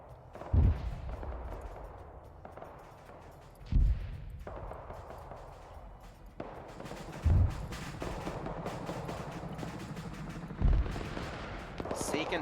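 Multiple artillery batteries firing in Arma 3 Cold War Ops, four heavy booming blasts spaced a few seconds apart, each followed by rumbling echo, with a voice talking in between.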